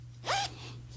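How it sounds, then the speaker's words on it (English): A single short, bright zip as the zipper on an Adidas pants pocket is pulled, quick and close, with a faint steady hum underneath and no talking. "it's come with this zipper for the pockets"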